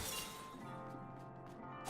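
Glass shatters in the Another Crab's Treasure video game: a bright burst of breaking glass at the start, followed by scattered clinks and a steady game tone underneath.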